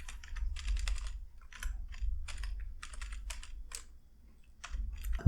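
Computer keyboard typing out JavaScript code, fast bursts of keystrokes in quick clusters with short pauses between, close and moderately quiet over a low steady hum.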